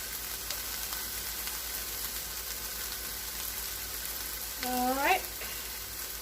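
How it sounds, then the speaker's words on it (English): Bacon crisping in a pan gives off a steady low sizzle across the whole stretch, and near the end a short rising tone cuts in over it while a voice says a few words. "the goal here is to just crisp up the bacon a little bit"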